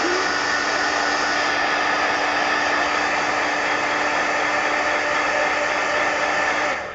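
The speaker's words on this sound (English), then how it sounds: "But heat gun." A heat gun used on paint-covered mixed-media altered book pages blows hot air in a steady, loud, broadband rush with a faint hum, running continuously for about seven seconds before cutting off at the end.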